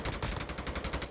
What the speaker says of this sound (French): il se prend une tête au sniper